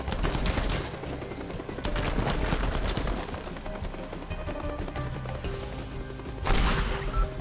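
Rockets fire and explode in the Teardown game in loud, rapid, crackling bursts, a dense barrage at the start, then a sustained rumbling stretch, and a fresh blast near the end.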